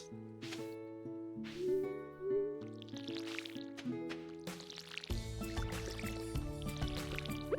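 A watering can pouring onto crops in Stardew Valley, with short splashing, dripping water sounds repeated several times over a soft melodic background tune.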